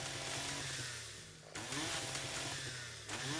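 A chainsaw in the video game 7 Days to Die cuts through plants, its buzzing engine revving in long surges with a brief drop between cuts, loud and continuous with no talking.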